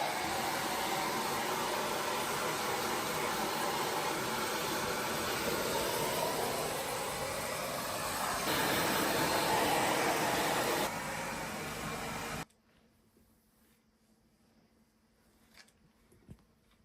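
A hair dryer powered from a portable power station blows a loud, steady broadband whoosh for about twelve seconds, shifting slightly in pitch mid-way, then cuts off abruptly to near silence with a few faint clicks.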